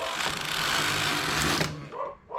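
A knitting machine carriage runs across a row on a double-bed machine while making a tubular edge, giving a steady close mechanical whirring rush that stops abruptly, followed by small clicks.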